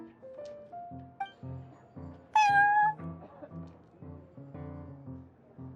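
A cat meows in Genius Invokation TCG, one clear drawn-out mew standing out over soft, plucked background game music with a light melodic phrase.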